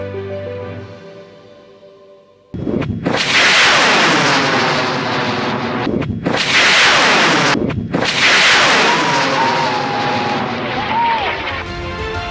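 Bluewren, a high-power rocket, launches with a sudden loud roar after a quiet start, and the roar holds at full strength with a couple of short gaps, close and powerful, filling the rest of the clip.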